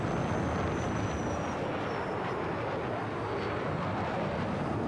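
Jet aircraft roaring past in the video game Battlefield 6, a steady, dense, broadband rush of engine noise filling the whole stretch at fairly constant loudness, with no talk.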